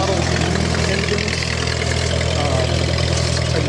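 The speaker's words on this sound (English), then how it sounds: "Next to it is a pair of Fairbanks Morse model engines." A pair of antique Fairbanks Morse model engines run at a gas and steam engine museum summer show, giving a steady, continuous low mechanical drone with a throbbing idle and no breaks.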